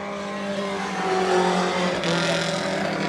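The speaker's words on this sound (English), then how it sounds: "Daniel Harding, his motor sounded a little unhealthy that last time around." Daniel Harding's 4-cylinder pro race car engine roars loud and steady at sustained high revs on a racing circuit, with a slight shift in pitch as it carries through.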